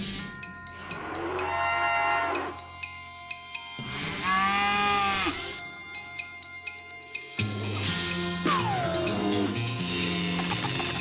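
Demon cow in a video game lets out several loud, drawn-out moos during a fight, with game music and effects layered underneath.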